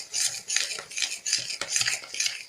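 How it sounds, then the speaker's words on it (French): Batter for patacrêpe stirred by hand in a bowl with a utensil to crush lumps, giving rhythmic scraping and clinking strokes, about five evenly spaced sweeps, close and fairly quiet. "On mélange, on mélange, on mélange."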